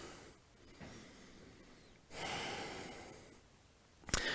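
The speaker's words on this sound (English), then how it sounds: "Breathe here for a moment." A person breathes slowly during a yoga-style warm-up on all fours, two long soft inhale-exhale swells close to the microphone, ending with a brief sharp sniff.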